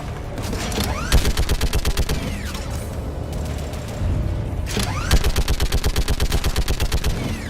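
Rapid bursts of automatic gunfire from a weapon in the video game Mass Effect, fighting the geth, come in two long rhythmic volleys with a short lull between them, loud and close with metallic clatter and no talking.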